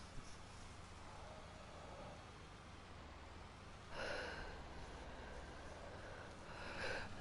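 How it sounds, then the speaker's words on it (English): Pugs snoring nearby, two distinct wheezy, snorting breaths about three seconds apart, faint over a constant hiss of background noise. "The pugs are still snoring."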